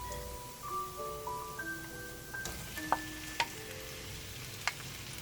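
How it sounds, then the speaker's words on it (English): Scallion, garlic and ginger stir-frying slowly in a pan make a steady low sizzle, with a soft melodic tone over it and a few sharp scraping clicks from stirring. "Stir them and let them slowly cook to release their aroma."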